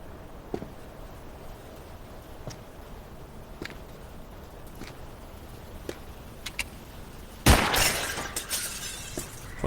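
A glass pane shatters in the video game Nocturnals, a sudden loud crash with scattering shards after several faint isolated ticks over a quiet ambient background.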